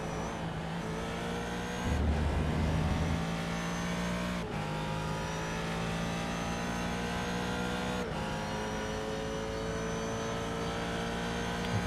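Race car engines at Sebring in a sim racing game, a steady loud drone of high revving with gear-shift breaks and a brief low rumble, no talk.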